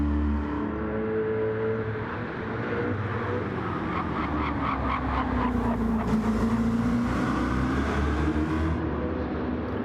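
A Corvette V8 race car in a racing video game at Autodrome Lago Maggiore roars through a lap, its deep engine note rising and falling with revs, loud and sustained throughout.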